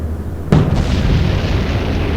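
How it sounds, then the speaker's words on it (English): A warship blowing up in the naval battle game Atlantic Fleet, with a sudden loud blast that rolls into a sustained low rumbling roar, heard alone. "Secondary explosion on the Valentine"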